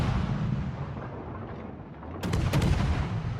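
Warship guns booming in a World of Warships naval battle, with a low rumbling barrage that swells into sharper, louder cannon blasts toward the end.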